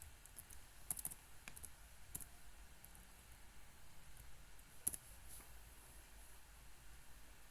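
Quiet computer keyboard typing, with sparse irregular key clicks and a few sharper taps spread over a faint room hum.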